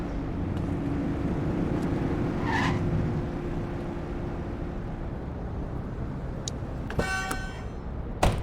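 A car driving at an easy pace in the video game The Precinct, a steady low engine drone running throughout with faint background ambience and a few brief clicks and rattles near the end.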